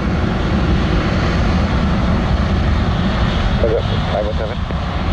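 A Delta airliner on its takeoff roll at Montego Bay's Sangster International Airport, a loud, steady engine roar holding throughout, with a faint voice briefly audible under it.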